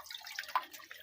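Water drains and drips from freshly harvested catfish in a backyard fish farm, a soft close trickle with a few light drips.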